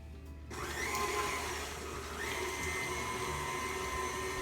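Electric mixer beating cheesecake ingredients without the eggs, starting abruptly after a brief quiet moment and then whirring steadily at close range with a slight change in pitch partway through.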